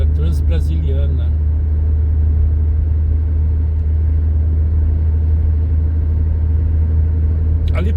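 A car cruises along the BR-153 Transbrasiliana highway in Brazil, with a steady, loud low rumble of engine and road noise throughout and brief voices at the start and end.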